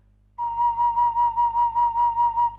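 A single sustained high C note on a Thai flute, held steady with a rhythmic pulsing wobble, about ten regular swells in a row, played alone.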